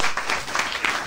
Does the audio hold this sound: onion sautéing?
no